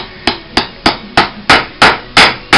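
A hammer driving nails into the leather heel seat of a cowboy boot under repair, eight sharp, evenly spaced strikes that grow slightly louder, close and alone without speech.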